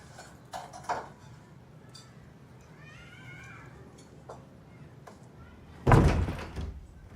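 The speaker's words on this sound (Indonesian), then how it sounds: "Tutup pintu, Ren." A door in a house shuts with a sharp, loud thud near the end, after a quiet stretch with faint background noise and a few soft knocks.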